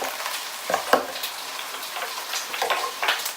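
Bacon and mushrooms fry in a pan with a close, continuous sizzle, dotted with small pops and the scrape of stirring, and no voices.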